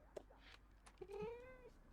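A cat meowing in The Sims 4, one drawn-out meow rising and falling after a few short chirps, quiet under light background sounds.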